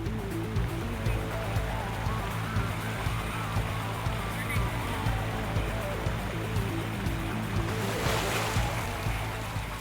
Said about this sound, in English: begin moving over the rapids where surging water and slippery rocks challenge their every step